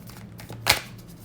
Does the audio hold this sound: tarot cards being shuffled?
yes